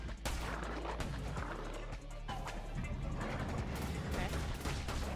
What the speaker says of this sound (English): the other times he shoots seeking bullets